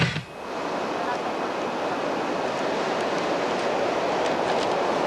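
Hurricane-driven ocean waves crash on the Jersey shore in a continuous, heavy roar of surf, steady and loud throughout with no let-up.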